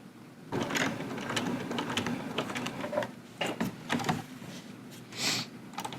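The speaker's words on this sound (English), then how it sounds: "I'm going to do just a few stitches." A sewing machine stitching a short run along a seam, its needle running in quick uneven bursts with brief pauses and clicks, close and fairly quiet, with no voice over it.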